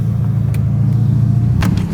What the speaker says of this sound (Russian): Очень похож звук на F8, такой V8 турбовый, прям слышно, что он не атмосферный, не высокооборотистый.